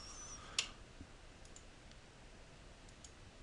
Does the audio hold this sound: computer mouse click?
yes